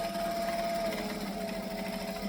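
Domestic sewing machine stitching forward and back on fabric, a continuous even motorised whirr with rapid needle rhythm, close and moderately loud.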